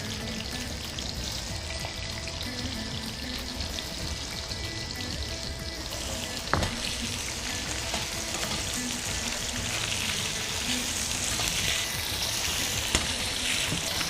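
Apple pieces frying in oil in a pan for apple pachadi, a steady, fairly soft hiss and bubbling sizzle that holds evenly throughout with a few small clicks, no talking.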